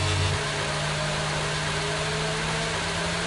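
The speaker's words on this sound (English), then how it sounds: "He's revving the engine." A race car engine in a racing video game set at Saudi Arabia drones loudly and steadily, a dense sustained roar with no pauses.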